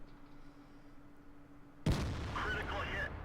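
A tank cannon shot in a tank video game, heard from an IS-6, strikes an enemy's tracks as one sudden loud boom after quiet idle hum, followed by a sustained rumbling, crackling tail before cutting off.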